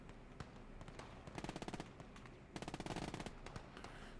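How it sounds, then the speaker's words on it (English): Bursts of MG42 machine gun fire in the WWII video game Gates of Hell, rapid rattling volleys of shots in two main bursts with scattered single shots between, set against a dense, noisy battlefield background. "So we got the two MGs working together."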